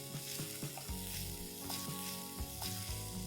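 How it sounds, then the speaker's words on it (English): Chopped tomatoes cook in spinach gravy in a pan, giving a steady soft sizzle and bubbling with a few scraping stirs and light knocks, close and even throughout, no voices. "Cook the tomatoes till they are nice and soft."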